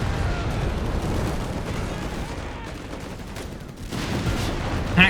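Easy 8 tank firing in a Company of Heroes 3 battle: a dense, loud barrage of gunfire and booming shots over a continuous rumble, with a sharp crack near the end and battle noise throughout.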